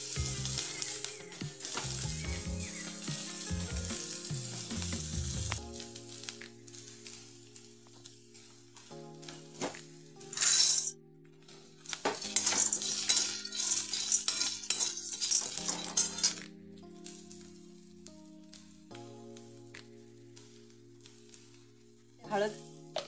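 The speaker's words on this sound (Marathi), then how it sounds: "चांगलं भाजून घ्यायचं कांदा।" Onion roasting in a pan for a sprouted-bean usal, stirred with a spatula that gives intermittent scraping and clanking bursts over a low sizzle, with some talking mixed in.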